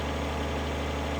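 Tractor engine idling in Farming Simulator 2013, a dense continuous low rumble with steady mechanical drone, loud and unchanging over a brief stretch.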